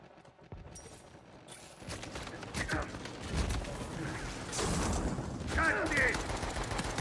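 Rapid gunfire bursts from a ranked video game match, with shots crackling in clusters over continuous game noise and a player talking throughout.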